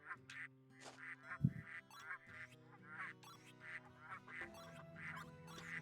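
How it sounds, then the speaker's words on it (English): Ducks quacking in a room in the video game Baten Kaitos, a busy chorus of nasal quacks repeating and overlapping throughout, with one sharp louder burst early, over sustained game music. "get out of this fucking room because I hate these goddamn ducks"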